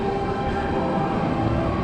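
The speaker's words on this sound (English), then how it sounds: "This is the entrance and exit to the trolley, the overhead trolley train thing." Overhead trolley train at Tokyo DisneySea, a steady rumbling rail drone with a faint tonal hum, moderately loud and continuous throughout, with no talk.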